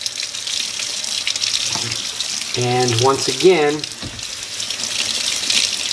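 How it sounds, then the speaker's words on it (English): Water pours steadily onto a polyester carpet sample during a stain-resistance test, a continuous broadband rush that runs throughout while someone speaks briefly over it. "we're just going to start pouring that water right over it as well"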